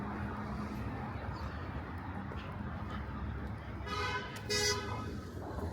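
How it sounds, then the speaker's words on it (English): Car horns toot briefly on 15th Avenue in Brooklyn, New York, a couple of short honks near the end over steady street traffic rumble and city background noise. "Here we go, car horns, guys"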